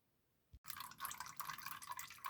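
Engine oil draining from a 2009 Bobcat 2300 skid steer during an oil change, a steady broadband splatter of liquid pouring and dripping that starts abruptly after a brief knock and continues close and fairly loud.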